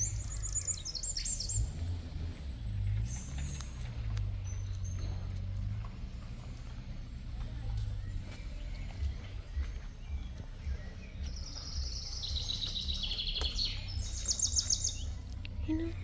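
A songbird sings in bright, high repeated phrases that come and go, heard fairly close over a constant low rumbling background with soft clopping sounds, with no talking.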